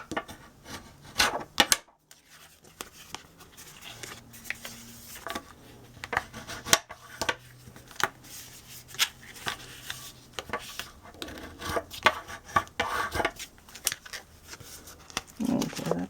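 A blade scoring the lid of a small handmade chapstick box, giving soft, irregular scraping and rubbing strokes at close range, fairly quiet, spread over several seconds with brief pauses.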